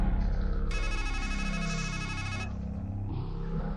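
A phone ringing in the horror video game Strangeland: a steady, repeating electronic ringtone with a brighter chiming middle section, loud and alone.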